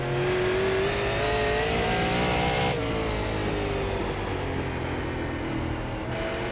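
A super late model race car engine in the iRacing game at South Boston Speedway drones loudly and steadily, its pitch rising slowly, then dropping sharply as it shifts and climbing again, with no talking.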